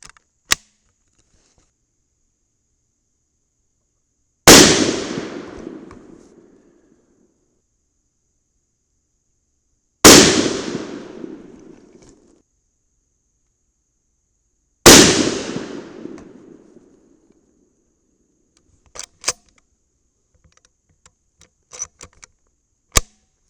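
Three loud, sharp rifle shots from a Savage in .308 Winchester with a 45-grain powder load, fired outdoors off a bipod, spaced about five seconds apart, each with a long decaying echo, then faint clicks and handling noises.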